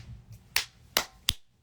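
Three sharp finger snaps ring out at a quick, even pace, close and crisp against a quiet background.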